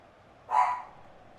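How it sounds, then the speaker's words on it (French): A single dog bark rings out briefly at a moderate distance against a quiet background, one short sharp yelp with no other sounds around it. "Il y a mon chien qui gueule."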